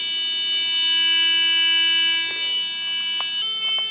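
An electronic guitar tuner's pitch pipe sounds the low E string note as a steady, sustained electronic tone, holding alone for a few seconds before a faint shift near the end.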